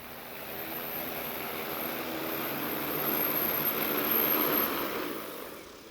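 An X9 agricultural spray drone hovers and comes in to land, giving a steady, moderately loud propeller drone that swells slightly midway and then eases off.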